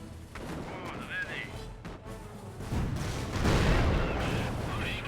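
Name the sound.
gunfire in Company of Heroes video game battle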